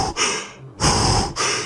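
A voice imitates a character's box breathing: three long, loud, close breathy inhales and exhales with short gaps between them, and no words spoken.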